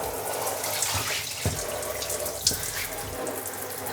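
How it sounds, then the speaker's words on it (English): Water runs and splashes steadily over a Tropicfeel All Terrain shoe worn with white socks during a soak test, a continuous close faucet-like pour with a few louder splashes, no talking. "let's do a water test"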